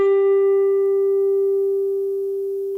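A guitar's G string plucked at the 12th fret while its intonation is being set, ringing as a single steady sustained note with clear overtones, decaying slowly and alone with no talk.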